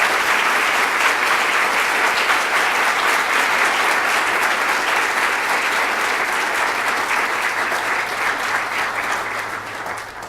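An audience gives sustained, loud applause welcoming author Tobias Wolff at a Creative Matters event, dense clapping filling the room without a break and tapering slightly at the end.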